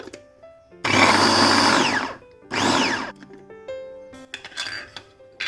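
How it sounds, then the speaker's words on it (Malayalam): A mixer grinds tomatoes, green chillies and garlic for a spicy chutney, in two loud whirring bursts, one long and one shorter, that rise and fall in pitch, close by, followed by lighter clatter and a brief restart. "അപ്പോൾ ഈ തക്കാളിയും പച്ചമുളകും വെളുത്തുള്ളിയൊക്കെ ഒന്ന് അടിച്ചെടുക്കാം."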